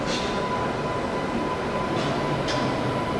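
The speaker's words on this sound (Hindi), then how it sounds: "मेरे ख्याल से ये चंबल एक्सप्रेस जो है वो आ रही है। वैप 7 लोकोमोटिव के साथ पहुंच रही है यहाँ पे" The Chambal Express, hauled by a WAP-7 electric locomotive, arrives at a station with a continuous rolling rumble and hiss, and a few short higher bursts on top.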